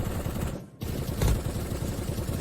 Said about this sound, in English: there was a shot right before he jumped over that wall